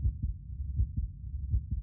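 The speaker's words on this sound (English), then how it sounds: "heartbeat." Heartbeat sound effect: deep, muffled lub-dub thumps repeating in a steady rhythm, about three beats over two seconds, low and close, with no voices or other sounds.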